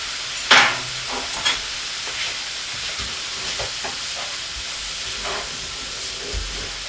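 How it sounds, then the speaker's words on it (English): Blue Stilton and port sauce being stirred in a hot pan, a steady sizzling hiss with a few sharp scrapes and clicks of the spoon against the pan, close and continuous with no talking. "He stirred it up."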